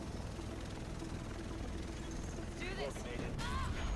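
A helicopter in the video game The Division thrums steadily in the background, a constant rotor drone with brief sharper game effects near the end.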